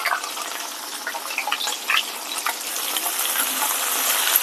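Onions fry in a pan for paneer masala, giving a steady, bright sizzling hiss with small crackles throughout and no voices.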